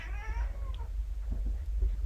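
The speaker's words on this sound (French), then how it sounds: "un petit chat qui miaule" A small cat gives a single high meow near the start, which then fades into a low steady background rumble.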